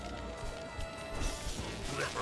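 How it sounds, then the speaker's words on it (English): Impacts from smashing objects in the video game Bubsy 4D, a burst of crash and thwack sounds over busy game music, fairly loud and up close, with a voice talking over part of it. "I love smashing things."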